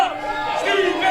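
A loud crowd at a live LPW x CWS ladder wrestling match roars and chants in a steady, dense wall of voices with no gaps.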